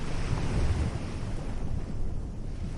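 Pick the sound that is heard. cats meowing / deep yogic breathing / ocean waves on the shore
ocean waves on the shore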